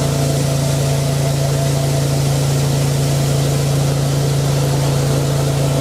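A Westermann Cleanmeleon CM2 weed cleaning machine runs steadily close by, giving a constant loud motor drone with a strong low hum that holds unbroken throughout, with no talking.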